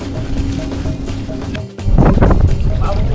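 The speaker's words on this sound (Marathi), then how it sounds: "हवा खूप आहे, म्हणजे जास्तच हवा आहे जरा" Strong wind gusts across a muddy fishing shore during mullet fishing, a loud, steady broadband rush with low rumble that swells louder in the second half, with voices faintly mixed in.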